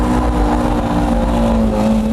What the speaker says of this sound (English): With these underpowered cars, you just have to keep the gas on to get it into power drift mode.